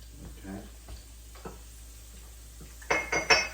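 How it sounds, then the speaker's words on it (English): Garlic dropped into a pan of hot sofrito for Cuban black beans, first soft scraping and stirring, then a sudden bright crackling sizzle that swells up near the end, close and without any talking. "I'm gonna add the garlic to the sofrito"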